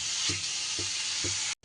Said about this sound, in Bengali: এইবার চিকেনের টুকরোগুলো দিয়ে দিলাম। চিকেনের টুকরোটা দিয়েও এইভাবে একটু কষিয়ে নেব।